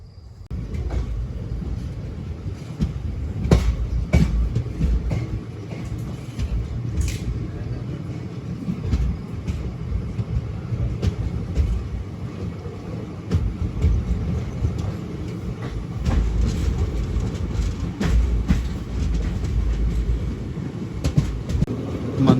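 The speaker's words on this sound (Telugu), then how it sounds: "వచ్చింది, ఆగింది, బయలుదేరుతుంది బండి." Rumbling rail noise as a passenger train pulls out of Mantralayam Road station in the early morning, a steady low roar with occasional clanks and knocks from the carriages throughout, and faint voices in the background.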